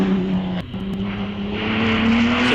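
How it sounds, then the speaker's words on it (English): A 500cc-class racing car climbs the Wiscombe Park hillclimb course, its engine note wailing and rising in pitch through a gear change, heard loud and close with no talk. "Beautiful sounding car, and David says he feels really honoured to be able to drive such a beautiful car"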